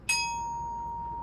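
A single B flat struck with a mallet on orchestral bells, a bright metallic strike ringing on as a clear sustained tone that fades slowly, alone in quiet.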